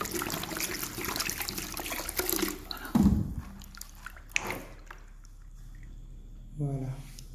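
Water poured to dilute hot water for a spiritual washing ritual, a trickling pour heard intermittently under someone speaking nearby.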